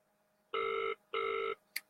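Outgoing call ringback from a phone held up for people to hear: two long, steady electronic tones with a pause between, loud and clean, then a brief click.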